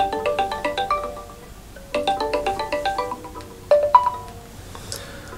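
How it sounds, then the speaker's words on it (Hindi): A phone rings while a call is being placed: a bright, melodic ringtone plays in repeating bursts of quick tones, three phrases separated by short pauses, fairly clear and close with no talking. "अब नईमा जो इस घर में नहीं रहती उससे फ़ोन पर रब्ता करते हैं।"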